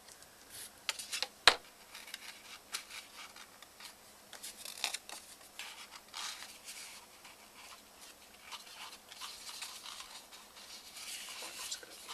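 Quiet scissors snip through a small piece of scrap paper, with one sharp click near the start followed by faint rubbing and handling sounds throughout.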